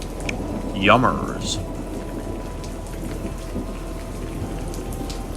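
A thunderstorm with steady rain washes over everything as a continuous hiss, while a single short voice speaks over it early on.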